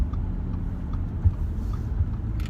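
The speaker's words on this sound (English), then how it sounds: "So we just driving in Nick's Prius" Steady low engine and road rumble from inside a moving Toyota Prius, a constant near hum with a brief thump partway through and no talking.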